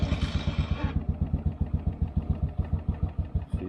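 A cold John Deere farm tractor engine cranks over on the starter, a loud, close, steady rhythmic chugging of about six beats per second that runs the whole time, opened by a brief hiss, with no voices.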